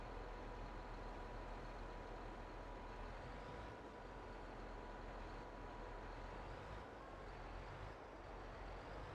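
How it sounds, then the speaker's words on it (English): A tractor hauling a noisy trailer on a UK beef farm in Farming Simulator 22 gives off a steady, continuous low engine rumble and road noise at a fairly faint level, with no speech. "that's noisy trailer"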